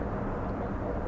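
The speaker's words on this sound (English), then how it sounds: "4 helicopters are flying over my head right now in succession." Constant broadband roar of a helicopter flying overhead above a city near the Hudson, steady and fairly loud throughout, with no distinct voices.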